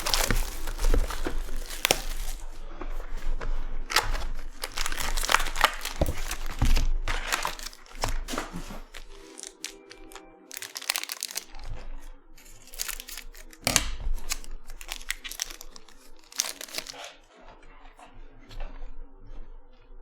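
Foil wrappers of sealed college football trading card packs from a hobby box crinkle and tear open up close, with bursts of rustling and crumpling that fade in and out; no talking.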